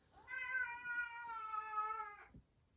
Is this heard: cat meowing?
yes